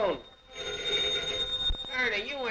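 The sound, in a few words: telephone bell ringing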